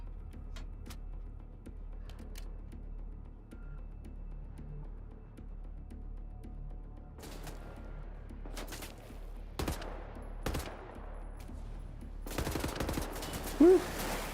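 Assault rifle fire in the shooter game Wolfenstein: The New Order, a few short bursts and single cracks after a quiet stretch, loudest near the end, over steady game background noise.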